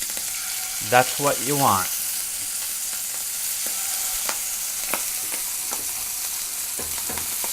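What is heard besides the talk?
sea scallops searing in a pan, being flipped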